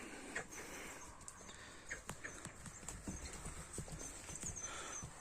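Horses' hooves clip-clop at a horse sale, irregular sharp knocks close by over a rough outdoor background, with a faint whinny-like texture mixed in and no speech.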